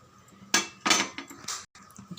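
A utensil scrapes and knocks against a pan while kozhukattai flour dough is stirred continuously, three or four loud scraping strokes with brief pauses between.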